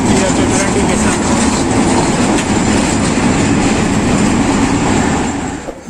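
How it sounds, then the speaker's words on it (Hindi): The Rehman Baba Express, a Pakistan Railways train, arrives at Rawalpindi station with a loud, steady rumble of rolling wagons and rhythmic wheel clatter, fading slightly at the end. "48 डाउन रहमान बाबा express 15 minute late Rawalpindi station पे पहुंच रही है।"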